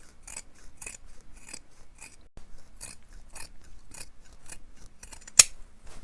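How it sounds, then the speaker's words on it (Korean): Scissors trim the seam allowance of a wool coat in steady, crisp snips, roughly two per second. The cuts are close and dry, with one sharper click near the end. "시접을 다 잘라주세요"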